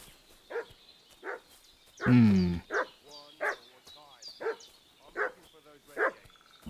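In Kingdom Come Deliverance 2, a dog barks in a steady run of sharp single woofs at moderate distance, broken midway by a louder close yelp-like burst, while someone speaks briefly over it.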